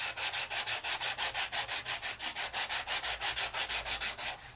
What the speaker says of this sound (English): Give it a good burnish.